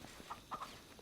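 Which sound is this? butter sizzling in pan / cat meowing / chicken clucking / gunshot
chicken clucking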